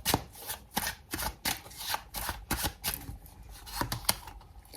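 Tarot cards being shuffled to draw a final card, a rapid series of crisp riffling bursts repeating about ten times, close and loud, with no talk.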